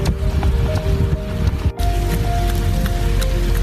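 Rain falling outdoors on a cold 44-degree day: a loud, constant hiss of rainfall with scattered drip ticks and a faint tonal hum underneath, broken only by a brief dip in the middle.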